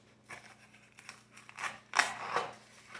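Scissors snipping straight across paper or material, a few short dry crunching cuts that grow louder, the last two strokes strongest, close and quiet with no talk.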